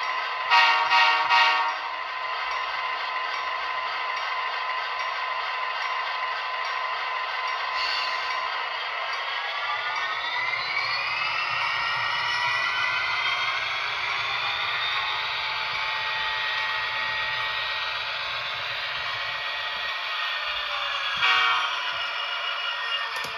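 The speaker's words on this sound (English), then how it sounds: "let's go ahead and put it in reverse and watch it run" Athearn Genesis Union Pacific SD60M model locomotive running in reverse with its sound on: a steady droning diesel engine hum that rises in pitch midway, with horn toots near the start and again near the end.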